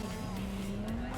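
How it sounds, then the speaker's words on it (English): A car in Cyberpunk 2077 with little grip drives hard, a steady engine hum running under a sustained tire squeal and skid, heard fairly quietly and alone. "This car has no grip"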